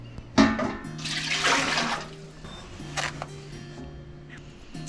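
Water gushes into a big metal canner pot for making light syrup, a loud splashing pour that swells, then eases into lighter trickles and a few short bursts.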